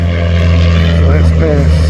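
Pitts aerobatic biplane making a low pass at an air show in Tavares, Florida, a loud steady propeller drone with a strong low engine hum, near and continuous, with a voice talking over it.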